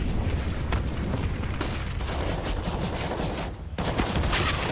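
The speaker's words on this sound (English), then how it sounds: "bullets just whizzing past flames" Gunfire in a Counter-Strike match: rapid, loud volleys of shots crackle almost without break, with bullets whizzing past and a brief lull near the end before the shooting resumes.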